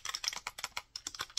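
Fingers type quickly on a seenda purple wireless keyboard, a close, rapid run of light clicky keystrokes in uneven bursts with one brief pause in the middle.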